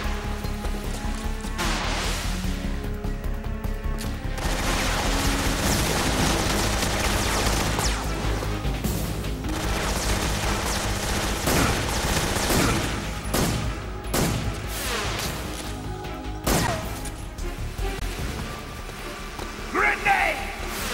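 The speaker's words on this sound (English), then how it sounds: "Tommy gun!" Tommy gun fire in Metal Gear Solid 3, rapid sustained bursts running through most of the stretch amid dense game sound and music, with speech tagged alongside.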